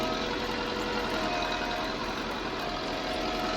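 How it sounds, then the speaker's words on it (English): A 1966 Massey Ferguson 165 tractor labouring uphill while pulling a cultivator through a field, a steady loud engine drone with a rough low rumble throughout, no voices. "the tractor is struggling a little bit with the cultivator on this part of the field going up the hill"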